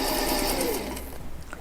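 A sewing machine runs a quarter-inch seam through fabric, its motor a close, steady whir that slows and fades near the end, followed by light handling clicks.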